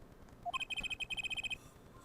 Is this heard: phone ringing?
yes